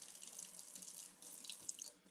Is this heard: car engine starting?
no